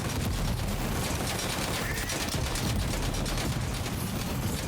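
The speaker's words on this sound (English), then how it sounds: "Grenade launcher definitely works." Dense, continuous gunfire and explosive bursts from a grenade launcher fight in the video game Death Stranding 2, loud and unbroken throughout without any talking.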